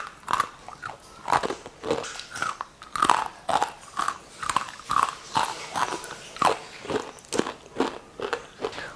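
Crisp peanut and rice flour murukku crunched and bitten, a series of sharp close crunches and cracks in an uneven rhythm, with no voices.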